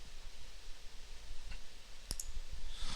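Two sharp computer mouse clicks close together, crisp and close, over a faint background hiss with no other sound.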